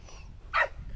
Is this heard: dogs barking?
yes